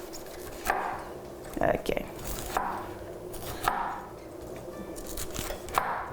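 Cauliflower is chopped roughly with a knife on a board, with about seven irregular sharp chops over a few seconds and a brief spoken word between strokes.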